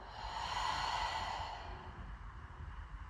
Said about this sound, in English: Exhale, let it go.